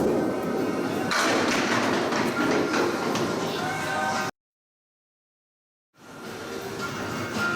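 A bowling ball rumbles down a lane at 204 Lanes in Harvard, Massachusetts, with loud continuous rolling and thuds of pins in a busy alley, broken by a brief total dropout before the rumble resumes.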